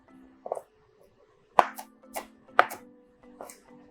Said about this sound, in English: bacon, which I just want to roughly chop. So now you can hear as well the crunchiness